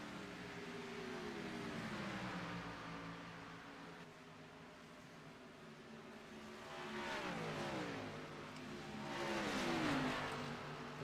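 Race cars in an IOS Cup Series Fortuna Iron 125 event roar around the track, engines droning steadily with two louder passes swelling and sweeping in pitch near the end, no talk.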